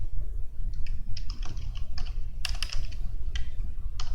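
Quick, irregular keystrokes on a computer keyboard while JavaScript code is typed into a spreadsheet script, close and fairly soft, with brief pauses between bursts and no talking.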